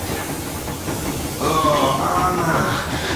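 Steam locomotive in the game Metro Exodus running along the rails, a continuous rumbling hiss with light clickety-clack that grows a little louder and brighter partway through, no speech.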